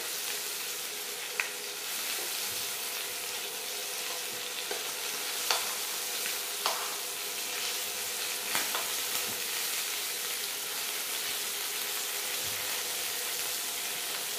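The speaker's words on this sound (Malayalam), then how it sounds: "നമ്മുടെ ചിക്കൻ ആവശ്യത്തിന് ഫ്രൈ ആയി വന്നിട്ടുണ്ട്. ഒരു ഷാലോ ഫ്രൈ ആണ്" Chicken for honey garlic chicken shallow frying in a pan, giving a steady close sizzle throughout, with occasional scrapes and clicks as it is stirred. No one speaks.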